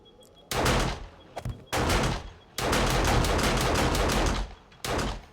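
Gunfire in the video game 7 Days to Die, played with the Undead Legacy mod, comes as several loud, sustained bursts of rapid shots separated by short gaps, with no talking.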